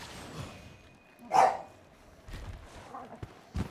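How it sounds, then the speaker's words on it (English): A dog barks once, sharp and fairly close in a quiet room, then gives a few fainter yips and whimpers, with low voices murmuring in the background. "if the dog's barking gets too much, let me know"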